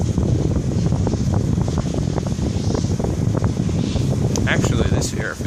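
Electric fan blowing inside a homemade air conditioner box, a loud, steady broadband whoosh with a low rumbling hum, continuous and close, with a few faint clicks near the end.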